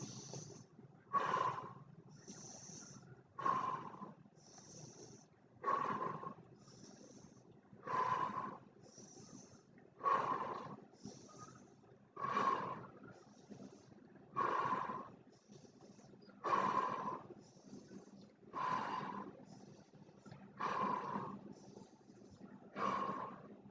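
Slow, deep yogic breathing during a guided breathing exercise, about a dozen long rhythmic breaths evenly spaced a couple of seconds apart, close and clear with a soft airy rush on each inhale and exhale.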